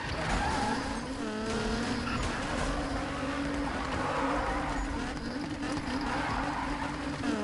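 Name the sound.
car engine while drifting in a PS4 racing video game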